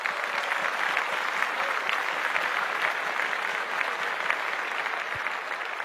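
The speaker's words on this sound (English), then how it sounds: "A big round of applause, please, for Ravi DC, Govind, and DC Books" Sustained applause from a full audience at a book launch for a Malayalam translation, many hands clapping in an even, continuous roar with no voices rising above it.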